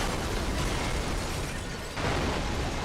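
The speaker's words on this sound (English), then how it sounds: "Already getting the explosion this early." A car crash explosion in the racing game Burnout 3: Takedown, loud and continuous, with a roaring wash of noise that dips briefly and then swells again with a fresh burst.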